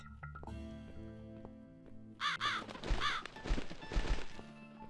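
Bird cawing in the video game The Cat Lady, a few harsh, raspy caws in the second half, rising over a dark ambient music bed with low tones.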